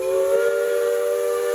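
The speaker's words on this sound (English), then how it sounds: "The whistle is like how we tell time in town." A steam train whistle at Roaring Camp Railroads in Felton sounds one loud, sustained, steady chord with a breathy hiss of steam around it.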